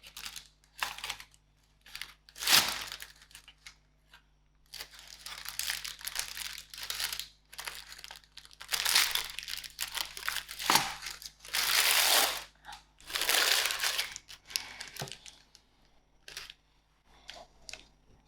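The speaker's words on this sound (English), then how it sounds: "now we're ready to release the baking tin" Rustling and crinkling of paper as a rich fruit cake is released from its baking tin, in irregular bursts of handling noise with quiet pauses between.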